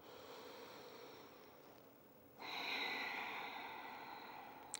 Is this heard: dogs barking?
no